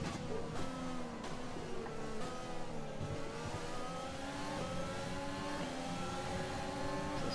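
Formula One race cars in the F1 2020 video game scream at high revs around a track, a steady dense engine whine with shifting pitch as several cars run close together, loud and continuous without talk.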